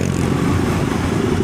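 A motorcycle with 40,010 km on it runs steadily while being ridden, a loud, close, continuous engine drone with rough low rumble and no talk.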